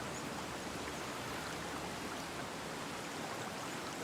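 Steady watering spray on crops in the video game Alek The Lost Kingdom, a continuous soft hiss of running water with no breaks, moderately quiet throughout.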